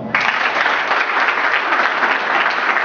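Loud, sustained applause from an audience at a political speech, a dense wash of clapping that starts abruptly and holds steady without a break.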